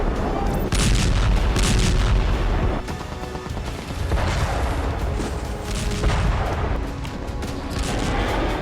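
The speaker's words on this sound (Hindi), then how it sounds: "पश्चिमी जेनिन में इजरायली सेना का काफिला पहुंचा तो हमास ने उस पर बम से जोरदार हमला किया।" Bomb blasts and heavy gunfire in an attack on an Israeli army convoy in western Jenin, loud rolling booms and crackling bursts layered densely over one another, continuous and chaotic for the full stretch.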